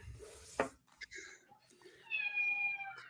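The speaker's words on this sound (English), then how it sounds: "We have a new cat, everybody." A newly adopted cat gives a drawn-out meow at close range, rising and falling in pitch, after a brief thump and some background voices in a room.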